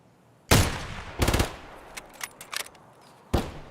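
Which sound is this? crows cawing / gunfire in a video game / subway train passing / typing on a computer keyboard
gunfire in a video game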